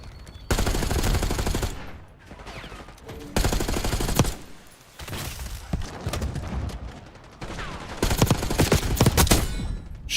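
Rapid gunfire in the online shooter Call of Duty Black Ops 6, loud and dense, firing in several long automatic bursts separated by brief gaps.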